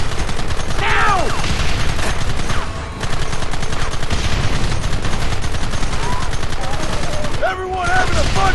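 Red Dead Redemption in-game gunfire: a dense, continuous fusillade of rifle and pistol shots fills the whole stretch, loud and near, with brief lulls near the third and seventh-and-a-half seconds and shouted voices over the shooting.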